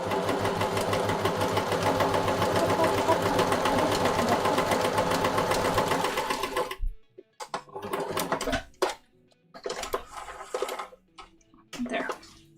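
A sewing machine stitches across pin tucks on a shirt with a steady, fast mechanical whir for about six seconds, then stops abruptly, leaving scattered handling clatter and a voice speaking.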